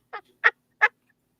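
A turkey gobbles in three short rasping bursts, evenly spaced and fairly close, against otherwise silent surroundings.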